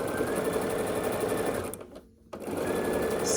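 A sewing machine runs steady and loud, stitching quilt strips together with a quarter-inch seam, pauses briefly, then resumes its continuous whirring drone.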